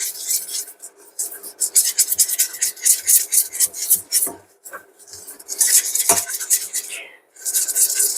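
A utensil scrapes and rubs against a pan while melting butter and flour are stirred into a roux, making close, rhythmic rasping strokes with brief pauses between them.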